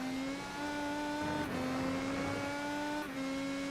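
Race car engine in the iRacing IndyCar sim at the Indy GP road course, held at a steady high drone with shifting pitch as the car power slides through turn 11, a brief dip midway, loud and continuous with no talk.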